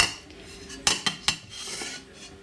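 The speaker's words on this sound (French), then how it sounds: "je vais le couvrir avec une assiette" A plate set down over an eggless apple cake, three quick clinking knocks of crockery close by, then a soft scrape in a quiet room.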